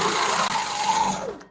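A sewing machine stitches through a panel quilt, a steady mechanical whirring hum running about a second and a half before winding down and stopping, with no voices.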